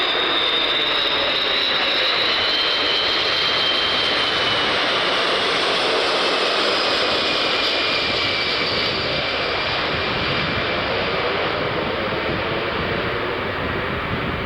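An aerial refueling tanker aircraft roars with a continuous, loud jet engine drone and a faint whine gliding across it, steady throughout with no talking.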